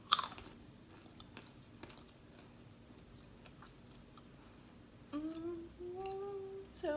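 Someone chews a rosemary maple almond, with quiet crunching and ticking bites close to the mic, followed by a voice humming or singing briefly near the end.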